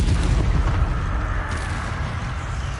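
An Incendio fire spell in the Hogwarts Legacy video game erupts as a sustained rushing, booming blast of flame that fills the clip and slowly fades.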